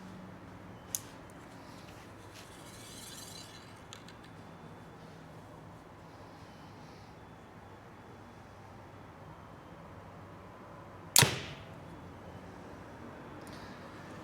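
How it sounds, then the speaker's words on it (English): A single sharp thump of an arrow from a Mathews Chill R compound bow striking a foam target, one loud close impact with a quick decay against a quiet background, preceded by a faint click. "The noise you're hearing is that the arrow hitting a foam target."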